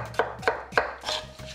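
A knife cuts through a peeled pear on a cutting board during Korean bossam and kimchi preparation, landing three crisp, evenly spaced chops followed by a softer fourth cut, close and clear.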